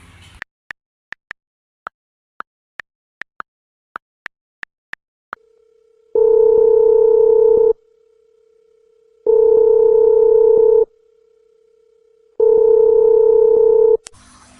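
A telephone call is placed: a quick run of short dialing beeps, then a steady dial tone, then three long, loud ringback tones with pauses between them, heard alone and up close.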